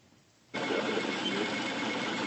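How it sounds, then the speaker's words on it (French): A 3D printer building an object from a computer drawing starts up abruptly and settles into a steady, dense mechanical whir that runs on evenly, close and fairly loud. "Sous vos yeux, l'impression en 3 dimensions."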